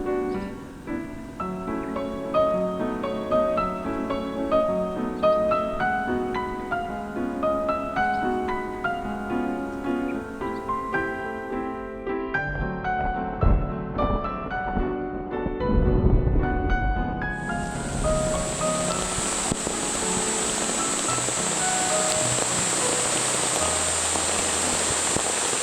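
Sudden rain shower in the Korean countryside, a dense hiss of rain that sets in abruptly after a stretch of music and stays steady and fairly loud to the end.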